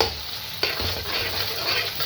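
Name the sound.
onions frying in hot oil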